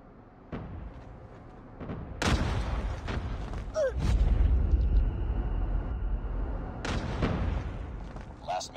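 A frag grenade blast in a multiplayer shooter match, a heavy booming explosion followed by a long rumbling tail, with scattered gunshots around it and in-game voices speaking over the action.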